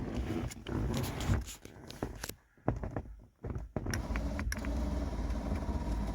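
The Sky Top moonroof mechanism of a 1988 Lincoln Town Car limousine, tight and dry, groaning and creaking as it operates, with a sustained scraping grind broken by a couple of short pauses and sharp clicks.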